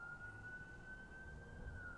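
A fire truck siren wails outside at a distance, a steady faint tone that holds level for the whole moment.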